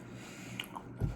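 Chewing on food close to the mouth, a soft continuous squishy mastication with a heavier bite near the end, brief and quiet.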